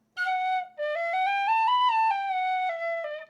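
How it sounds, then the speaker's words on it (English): A tin whistle in D plays a sustained F sharp in two clear, bright held notes, the first brief and the second long with a slight rise in pitch, close and alone. "This is the bloody tin whistles in D major."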